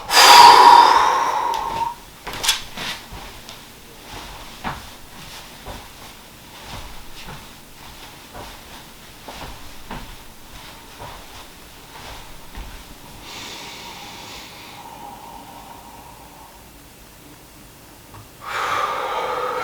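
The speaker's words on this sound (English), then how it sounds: "Exhale." A surfer doing at-home breath hold training lets out a sharp exhale at the start, followed by quiet breathing and soft rustling, then another strong breath burst near the end.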